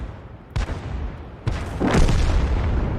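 Tank guns firing in a World War II video game: two sharp, booming shots about a second apart, followed by a louder, rumbling blast of a hit that lingers to the end.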